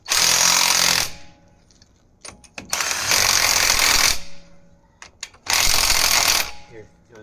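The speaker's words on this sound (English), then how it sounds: "Now you can take your impact gun and shoot them all there." An impact gun zips lug nuts off a wrecked L5P truck's wheel in three loud rattling bursts of about a second each, separated by pauses with clicks, clanks and people talking nearby.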